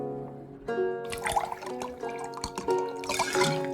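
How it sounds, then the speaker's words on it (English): Wine is poured from a jug into a cup in the video game Card Shark, a short burst of trickling and splashing liquid over a sustained musical tone, growing busier toward the end. "I didn't realize there was a minigame about pouring wine"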